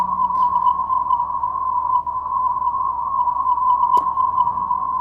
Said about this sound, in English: this is the tone that created the image in your mind